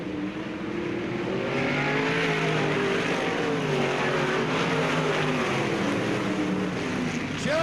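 Race cars roaring down the backstretch at Bureau County Speedway, a dense, loud engine drone with overlapping pitch sweeps as several cars pass together, continuous throughout.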